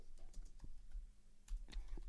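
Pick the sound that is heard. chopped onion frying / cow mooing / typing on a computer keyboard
typing on a computer keyboard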